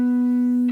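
A single sustained guitar note from a song, fretted with the pinky on the 9th fret of the D string, ringing steadily and evenly before it is cut off.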